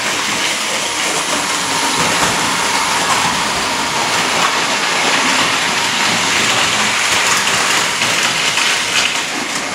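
A model train runs along a layout, producing a continuous, fairly loud rushing rumble with a fine rattling texture that stays steady for the whole stretch, with no one talking.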